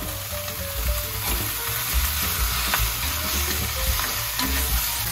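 Chopped pork and garlic stir-fry in a pan for Taiwanese braised pork rice, a loud, continuous sizzle with scraping of the spatula as the meat is tossed.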